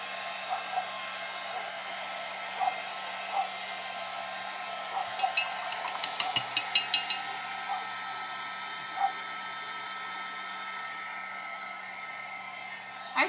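A handheld hair dryer blows steadily on a sprayed art journal page, a constant airy whoosh close by with an even hum, while faint clicks and small knocks sound around it.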